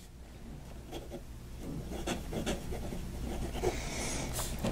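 A Delike Alpha Red fountain pen with a bent nib writing on paper, soft close scratches and strokes in an irregular rhythm, faint and alone against quiet room hum.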